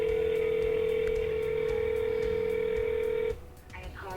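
A telephone call being placed to an accounting department: a steady electronic tone holds for about three seconds, then cuts off and gives way to quieter, shifting tones of the line connecting.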